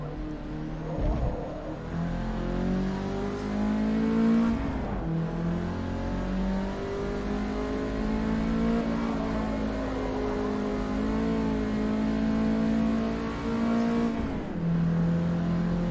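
Race car engine in the Forza Motorsport video game droning steadily and loudly, with sustained revving that dips sharply as the car brakes around 1 and 5 seconds and again near 14 seconds, then climbs back up.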